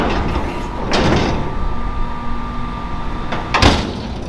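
The door of a dump trailer during a maize silage harvest bangs twice, a dull thud followed a few seconds later by a sharper metallic clang, over a steady low machinery rumble.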